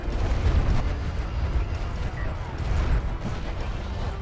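Artillery fire in the Homeworld: Deserts of Kharak video game: a dense, continuous low rumble of booms and blasts, loud and unbroken throughout.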